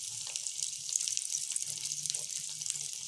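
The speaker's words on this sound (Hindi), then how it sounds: "30 सेकंड में ये हमारे अच्छी तरह से फ्राई हो जाएंगे।" Bread slices frying in a pan over medium heat, a steady, fairly close hiss of sizzling oil that runs without a break, with a faint low rumble underneath and no talking.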